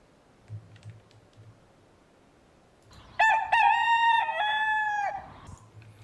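A rooster crows once loudly as a sound effect in a werewolf party game, a rising then held cock-a-doodle-doo after a few seconds of quiet low tapping.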